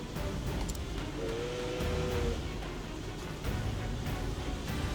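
A steam tank in the video game Octopath Traveler II gives off a loud, continuous steam hiss with a short whistle-like tone partway through, steady throughout and alone.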